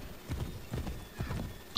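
Horse hooves clip-clop steadily in Assassin's Creed III as the rider travels, an even four-beat trotting rhythm with soft thuds, fairly close and heard without talking.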